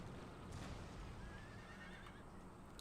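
Cavalry horses neigh in the video game Empire Total War, a faint whinny rising over a low rumbling battle din, with a soft patter of hooves.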